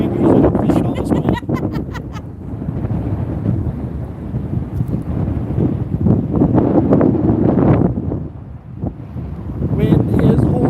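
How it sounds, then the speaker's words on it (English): Strong wind blows across the microphone outdoors at a carp fishing spot, producing a loud, continuous low rumble and buffeting that swells and dips throughout, with voices talking underneath. "Wind is horrible."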